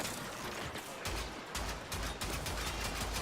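A gun in Warframe fires repeatedly in rapid, thudding bursts, the loud shots pounding in an uneven rhythm over a dense, constant layer of combat noise.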